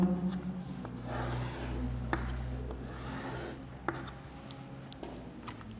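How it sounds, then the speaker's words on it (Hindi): A diagram is drawn on a board, with steady scratchy strokes and rubbing that come in bursts, broken by a few sharp taps as the writing tool touches down. "मैं एक छोटा सा डायग्राम बना रहा हूं"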